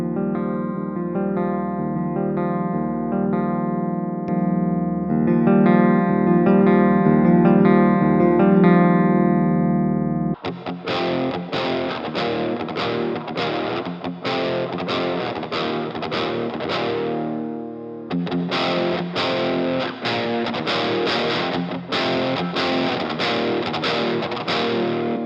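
An electric guitar plays through a Titanium 12 internal preamp: first a held, ringing chord, then a run of rhythmic strummed and picked chords, loud and close with a driven, effected tone.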